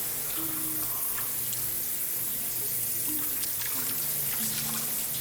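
Running shower water in the video game Persona 3 FES, a steady hissing spray that stays continuous and fairly faint throughout, with occasional soft tones from the game over it.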